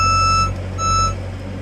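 A 2019 JLG 460SJ boom lift sounds a steady tonal beeping alarm over a low diesel engine hum as the basket is levelled, the tone dropping out briefly midway before resuming.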